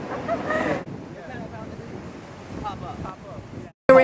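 Ocean surf and wind buffet the microphone on the shore, a steady roaring wash with gusts and rumble throughout, loud and close, briefly cutting out near the end.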